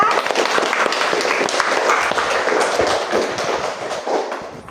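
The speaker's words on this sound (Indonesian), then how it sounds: "Aplaus dulu untuk kita." A classroom group clapping together for themselves after presentations, dense sustained applause filling the whole stretch, close and fairly loud, fading slightly toward the end.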